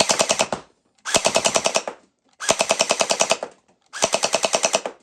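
A Nerf Pro Gelfire MrBeast Edition blaster fires water-hydrated gel balls in four loud, rapid bursts, each a fast rattling string of shots separated by short pauses.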